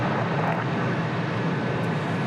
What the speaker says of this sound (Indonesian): Manuver 8 pesawat tempur ini merupakan penghormatan kami kepada Presiden ke-8 Republik Indonesia.